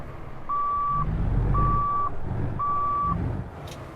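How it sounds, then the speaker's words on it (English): Three evenly spaced, steady electronic warning beeps from a reversing truck in a trucking video game, sounding over a low engine rumble, with no voices. "Warning, this vehicle is reversing."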